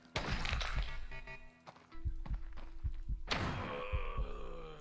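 Dull, punchy thuds and thunks from the Quasimorph video game hit the player in an uneven string of close impacts over busy game effects, with a sharp loud burst near the middle.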